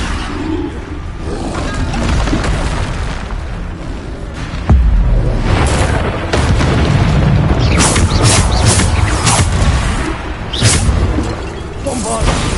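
Bombarda spells exploding in Hogwarts Legacy, a video game, with booming blasts and shattering debris in a loud, dense battle mix, and a sharp impact near the middle followed by continuing bursts.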